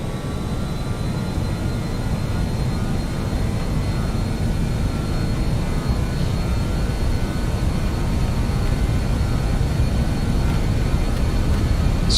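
Airliner jet engines spool at takeoff thrust for a departure from Pokhara International Airport, a steady, loud, broadband roar with deep rumble that holds constant throughout, heard from the cockpit without talk.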